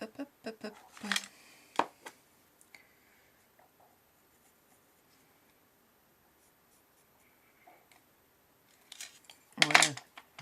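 Scissors snipping a paper card for an autumn greeting card craft: a few quick close cuts at the start, a long near-silent stretch, then another cluster of sharp snips near the end.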